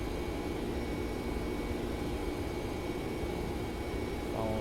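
Boeing 767 jet engines climbing after takeoff in the X-Plane 11 flight simulator, on a flight from Barcelona to Heathrow: a loud, steady roar with a faint whine on top, continuous and unbroken.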